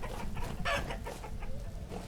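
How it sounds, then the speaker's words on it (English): A chicken clucks in the survival game Vintage Story, a few short clucking calls close by over steady game ambience and background noise. "Oh, hi, chicken."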